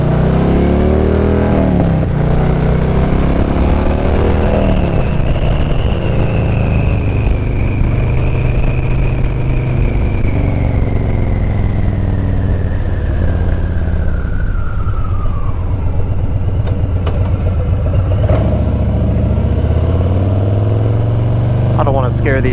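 A Harley-Davidson Street Bob 114 fitted with an SP Concepts Lanesplitter exhaust pulls uphill through first and second gear, its loud, close engine note swelling and shifting across gear changes without a break.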